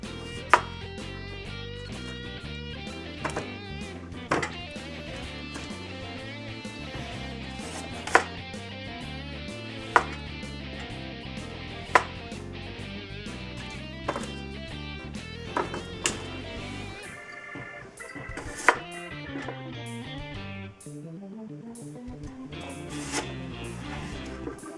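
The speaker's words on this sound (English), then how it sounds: "I've got a few potatoes that we're gonna quarter." A knife cuts potatoes into quarters on a board, with sharp chops spaced irregularly over a steady background music bed, near and clear.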